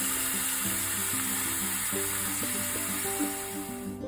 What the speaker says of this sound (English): we're going to place our steak in the pan and let it cook on each side for about maybe 4 minutes each